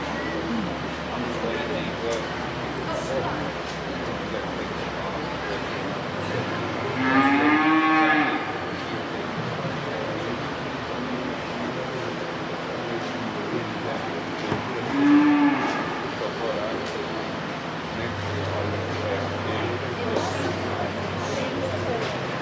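Jersey cows moo twice in a show ring during a cattle show, each low call rising through the steady murmur of a crowd and a distant announcer voice.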